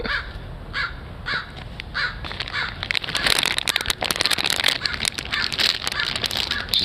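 A crow caws repeatedly outdoors, a run of harsh, rasping calls that starts moderately loud and grows louder and denser in the second half, with no talk over it.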